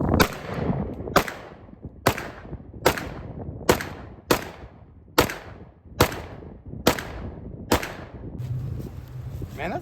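Nine evenly spaced, sharp pistol shots from a Springfield Prodigy or Staccato P handgun, each a loud crack with a short decay, fired at a steady rhythm about one second apart.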